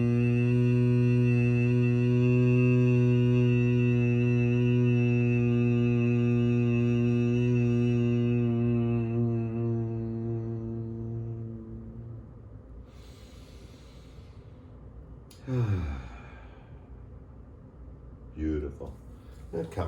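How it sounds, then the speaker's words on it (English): Bhramari breathing during a mountain core yoga class: a long, steady humming exhale with a strong tonal drone that slowly fades over about twelve seconds, followed by quiet breaths and a couple of soft rustles. "Let's do a Brahmari to clear."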